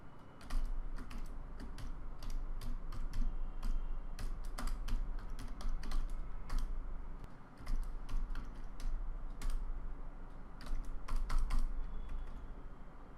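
Quick bursts of clicky keystrokes on a computer keyboard while an HTML template is typed, close and crisp, in irregular rapid runs broken by short pauses.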